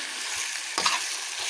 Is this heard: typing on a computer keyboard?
no